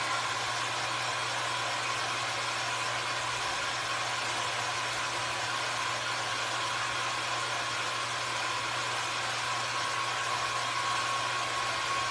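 A hair dryer blows steadily on a caramel apple, a constant close whooshing airflow with a low motor hum, unbroken and alone for the whole stretch.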